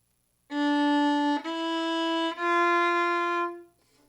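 A violin holds a single sustained natural F note for about three seconds, with two brief bow changes, played clearly and alone before a faint scrape at the end.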